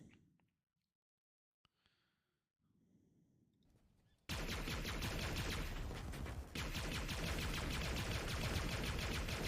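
Gunfire from the plasma pistol and disruptor in a Halo game trailer: after sparse quiet sounds and a short low rumble, a loud continuous barrage of rapid shots bursts in and keeps firing densely to the end.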